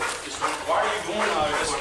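A police K9 dog barks and yelps amid a noisy live scene, the agitated barks mixed with shouting voices and crowd commotion throughout.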